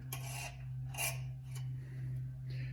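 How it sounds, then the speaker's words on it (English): A metal file rasps along the edges of a cut opening in a Porsche 911 body panel, with a few separate scraping strokes over a steady low hum and no talking. "we'll try to file in those little edges"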